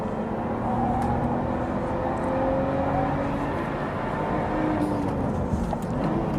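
Lotus Evora Sport 410 on a race track, its engine whirring steadily at speed with rising and falling pitch across gear changes, sustained and fairly close.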